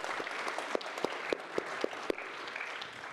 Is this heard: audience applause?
yes